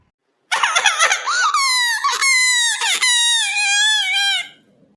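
An infant cries after having an ear pierced, with loud, high-pitched wails that start abruptly after a short silence, then waver and sustain close by before trailing off.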